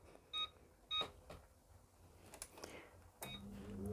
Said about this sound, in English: Switch it on. Going to air fry it at 160.